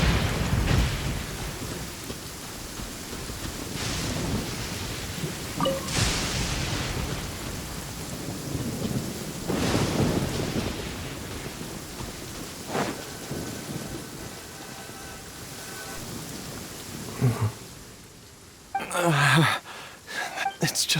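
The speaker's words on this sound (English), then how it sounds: "If you're scared of lightning, hide now." Thunder and steady rain in the video game Genshin Impact, with several heavy rolling thunder cracks spread through a continuous downpour, plus a sharper louder burst near the end.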